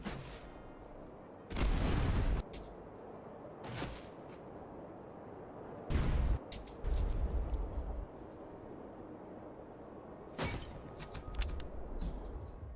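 Artillery cannon fire in a Napoleonic-era French campaign strategy game, with several loud, heavy broadband booms spread across the stretch, some single and some in rapid clustered volleys, over a constant low battlefield rumble.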